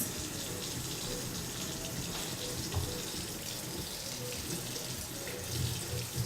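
Cold tap water runs steadily into a kitchen sink for potatoes, a continuous close hiss and splash with a few brief clunks and no talking.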